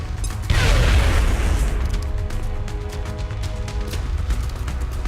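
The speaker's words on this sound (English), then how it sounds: "Our first trooper moves up and hucks a frag grenade." A frag grenade explodes in the turn-based strategy game XCOM: Enemy Within, a single loud booming blast followed by a rumbling, crackling tail over a low background.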